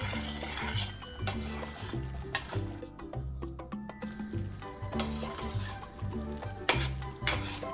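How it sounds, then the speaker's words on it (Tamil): Milk cream (malai) simmering into ghee in a pan, with steady sizzling and frying bubbles under repeated close scraping stirs of a spoon against the metal, occasional light clinks, and no talking. "இதுக்கப்புறமேட்டு நம்ம சிம்மில் வச்சுட்டு அப்பப்போ கிளறினா போதும்"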